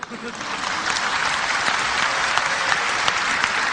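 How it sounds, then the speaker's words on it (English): A large audience at a religious talk claps in steady, dense applause that starts at once and holds at a loud level. The crowd is close and there is no speech over it. "you're clapping. I like it."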